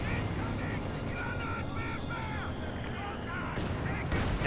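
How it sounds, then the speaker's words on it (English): A ZiS artillery barrage rumbles in Company of Heroes 2, with booming impacts and gunfire under a continuous battle din while a commentator talks over it. "Zis barrage ringing on in"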